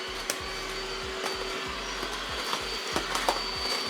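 Vacuum attachment fitted to a woodworking tool sucking sawdust, a steady motor whine with a low droning hum and repeated rising low pulses, close and continuous with no talk.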